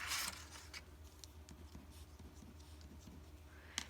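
Scissors cutting corner pieces off paper for a stash box, quiet close snips and rustling scrapes, with a brief louder crinkle at the start and another at the end.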